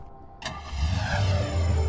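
A car engine in the video game Hotline Miami starts with a sharp click, then revs up into a rising, close mid-pitched roar that grows louder, with no voices.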